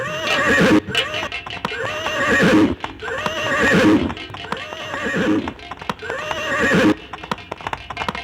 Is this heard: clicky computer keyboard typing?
no